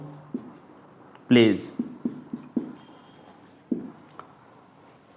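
Marker or chalk writing on a board, with a few short scratchy strokes in a quiet room, while someone speaks over it.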